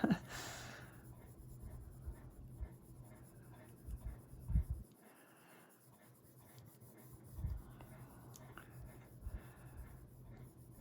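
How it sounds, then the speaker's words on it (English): Colored pencil shading skin tones on paper, a close, quiet scratchy rubbing that comes in short bursts with pauses between strokes, with faint breathing nearby. "It's so easy to accidentally turn your pencil and then all of a sudden now you have a sharp edge."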